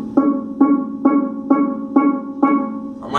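A tuned steel pan struck repeatedly on a single C sharp note, six evenly spaced ringing hits with a strong fundamental and shimmering overtones, close and fairly loud, with no talking.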